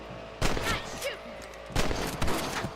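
Rifle shots crack out at rabbits in Red Dead Redemption, two loud, close reports spaced over a second apart with short echoing tails over a low outdoor ambience.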